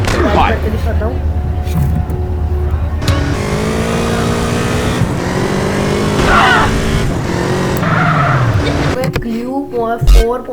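A car engine in the GTA video game revs and drives continuously, its pitch rising and falling through gear changes, with someone talking over it.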